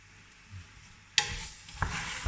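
Chinese cabbage hits a hot pan and sizzles loudly, with a sudden burst of frying followed by a second toss and continued close sizzling over a quiet start.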